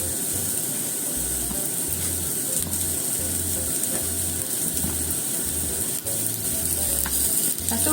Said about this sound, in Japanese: あとは焼くだけなんですよ。